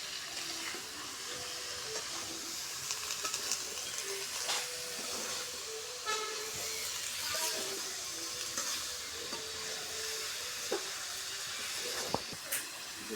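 Tomatoes go into a simmering hilsa fish curry with winter vegetables, giving a steady close hiss and sizzle with faint bubbling and occasional soft clinks, no talking.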